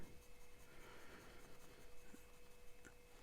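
A very wet-writing fountain pen scratches and glides across paper, a soft, close, continuous rubbing with faint nib strokes, quiet and alone.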